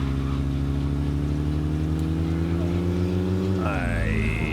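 A car engine in the State of Decay video game drones steadily and loudly while driving, its pitch holding level before dropping and shifting near the end, with music or effects layered over it.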